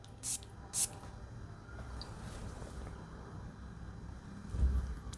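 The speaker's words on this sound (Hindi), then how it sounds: "देखते हैं स्प्रेयर करें हवा में" A perfume atomizer from Arabian Aroma's Old Money fragrance fires two short, sharp hissing sprays into the air, close and bright over a steady low background rumble.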